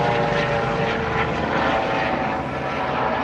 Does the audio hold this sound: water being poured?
no